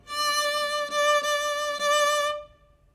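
A violin sounds a steady bowed D note on the second string four times in a row, each stroke sustained and evenly spaced, then it fades out.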